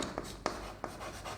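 Marker or chalk strokes on a classroom board give short, faint scratchy squeaks in an uneven rhythm over quiet room noise.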